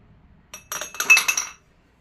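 Drinking glasses clinking together as they are handled, a short cluster of four or five bright, ringing taps over about a second, close and clear against near silence.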